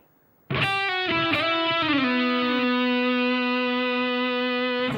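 A single electric guitar note with a slight grit slides down the G string to the 4th fret and then holds, ringing steadily after a brief silence.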